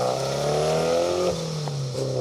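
A Repsol-liveried Ford Escort Cosworth rally car, a Carlos Sainz replica at a historic rally stage, revs hard and sweeps past close by, its engine pitch sliding down as it goes.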